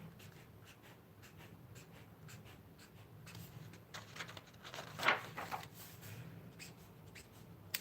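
A pen scratches steadily across the pages of a journal in quick, soft strokes, faint and close, with a slightly louder burst partway through and no talking.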